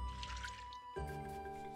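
Watering plants in the video game Littlewood brings a short game splash of pouring water, soft liquid trickles layered over steady background music.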